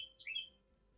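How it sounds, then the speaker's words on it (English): A bird chirps close by in a short, bright burst of rising and falling tweets that fades after half a second, leaving quiet room tone behind. "what bird is making that noise?"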